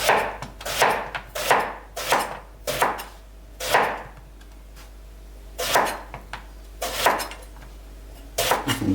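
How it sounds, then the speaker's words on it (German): A knife chopping lasagne ingredients into bite-size pieces on a board, with loud, sharp thuds in uneven bursts of two or three, separated by short pauses. "So, den schneiden wir auch alles mundgerecht."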